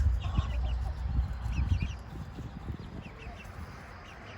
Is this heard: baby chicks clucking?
yes